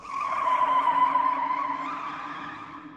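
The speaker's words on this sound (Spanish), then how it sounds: "El chirrido de las llantas contra el asfalto fue ensordecedor" Car tires screech on asphalt under hard braking, a loud sustained squeal that holds steady for about three seconds and fades slightly toward the end, with no other sounds.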